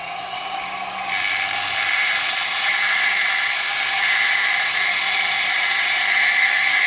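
A fire agate stone is rough-ground with water, giving a steady, loud high-pitched whirring grind that starts after a softer second of motor hum and carries on unbroken with no talking.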